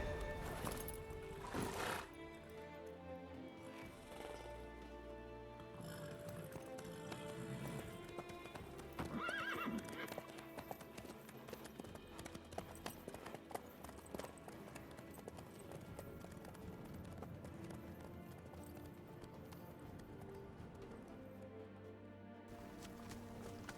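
A horse in The Witcher 3 gallops with a continuous clip-clop of hooves and an occasional whinny, loud and close over game music, with no one speaking.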